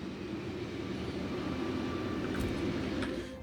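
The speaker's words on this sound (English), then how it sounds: "the calcite train has already started heading over there" A train in the Factorio game rolls steadily along its track, giving a constant, even rumble with no breaks throughout, and nobody speaks.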